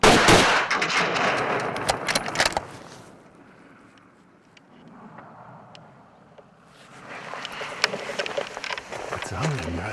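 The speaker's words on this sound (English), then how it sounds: "I'm just waiting for Bart to shoot" A sharp rifle shot at an Alaska black bear rings out loud and close at the start, followed by a quieter outdoor stretch and then wind-buffeted rustling and movement with a hint of voices.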